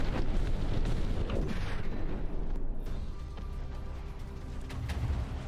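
Battleship big guns boom in the naval combat game From the Depths, heavy artillery blasts and rumbling explosions rolling continuously with no talk over them.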